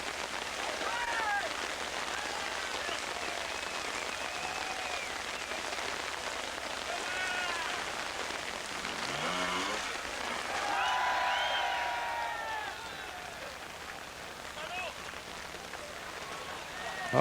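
Heavy rain, with small hail mixed in, drums steadily on a hillside at a 1987 observed trials event in Les Rousses, France, a dense continuous hiss with faint voices and a passing motorbike drone beneath it.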